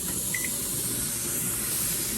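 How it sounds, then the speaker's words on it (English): Steam vents from a pressure canner filled with pork, giving a steady, close, unbroken hiss that fills the whole span with no talk. "We are venting. There's a whole lot of hot steam coming out up there."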